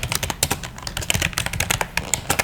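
Rapid, steady typing on a computer keyboard at a desk, dense clicking keystrokes with occasional heavier key presses, close and continuous with no voices.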